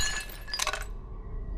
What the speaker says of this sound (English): a sudden, deafening crash shattered the silence